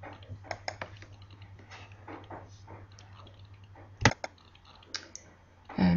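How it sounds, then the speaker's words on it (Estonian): A password typed on a computer keyboard, a run of light irregular key taps at close range, then a sharper louder click of the left mouse button near the end, no speech. "Siis on vaja trükkida parool. Ja vajutada vasaku hiire klahviga nupul sisenen."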